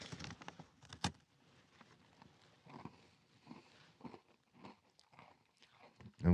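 A freeze-dried mint chocolate chip ice cream sandwich is bitten with a sharp crunch, then chewed in soft, irregular crunches, close up and quiet.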